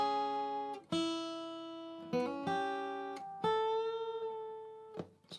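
A guitar note played on the first string at the fifth fret is bent upward, repeated a few times with separate plucks that ring and shift pitch, fairly quiet and alone.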